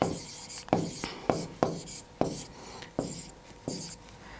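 A pen scratches out notes in short scribbling strokes, about eight crisp bursts at a steady, close rhythm with brief pauses between them, unaccompanied by any voice.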